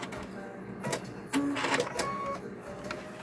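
A sewing machine stitches up the side of a rope bowl in short mechanical bursts, with pauses and clatter in between.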